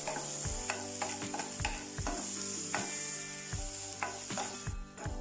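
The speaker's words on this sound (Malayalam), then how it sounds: "ഇപ്പോൾ ഉള്ളി ഇവിടെ ഏകദേശമൊക്കെ വഴന്ന് വന്നിട്ടുണ്ട്" Chopped onion, green chili and curry leaves with salt sizzle and fry in a pan while being stirred, a steady close crackle broken by repeated scraping strokes, with no voices.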